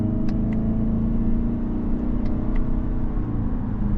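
Steady engine drone from a 2025 Toyota Camry XSE driving through simulated CVT shifts, a continuous loud hum with slight pitch changes and no distinct shift steps.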